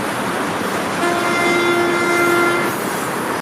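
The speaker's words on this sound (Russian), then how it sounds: "Этот локомотив с ковшом на полном ходу откидывает с рельсов снег" A snow plow locomotive with a bucket runs at full speed on a railway line in Yakutia, a steady rumbling roll joined by a long sustained horn tone that holds for over a second before fading.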